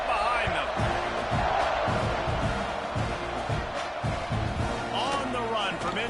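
Football stadium crowd at an A&M versus UCLA game roaring steadily before a kickoff, a dense continuous wall of cheering, with an announcer talking over it.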